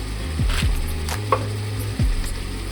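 A knife chops through sausage for a jambalaya on a cutting board, giving a few sharp, close strikes spaced irregularly, with a short gap before the last cuts.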